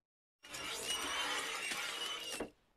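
Harsh grinding crunch as a lump of coal is crushed in a Yujiro anime scene, a sustained bright crackling burst lasting about two seconds with sharp snapping accents, heard alone with no talk.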